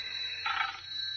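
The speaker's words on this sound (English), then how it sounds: "That's my phone." A telephone bell rings in an old-time radio drama, one short trilling burst rising over a quiet hum, heard alone.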